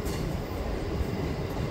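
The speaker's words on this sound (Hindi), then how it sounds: "दोस्तों हमारी गाड़ी यहाँ पर पहुँचने वाली है रायरू रेलवे स्टेशन" A passenger train pulls into Rairu railway station on the Gwalior to Joura line, a loud, continuous low rumble of rolling wagons heard from on board with no voices.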